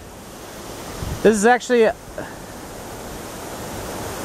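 Steady broadband rush of the Maury River pouring over a small dam at Jordan's Point Park in Lexington, Virginia, heard at a distance, with someone briefly speaking over it.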